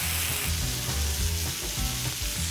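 Onions, tomatoes and curry leaves sautéing in a pan, a loud continuous sizzle close up, with rhythmic stirring scrapes repeating about every half second.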